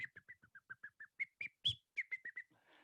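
A person whistles in imitation of a robin's call, giving a quick series of short, sharp chirped notes at a steady rhythm with one louder accented note near the middle. The whistling is faint and close, with no talking.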